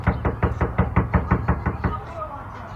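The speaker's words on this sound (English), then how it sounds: "Don't you ever beat on my goddamn door like that." A fist pounds on a front door in a rapid run of about a dozen heavy, evenly spaced knocks that then stop, with faint background sound afterward.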